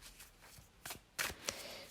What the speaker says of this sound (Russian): Перемешаем карты.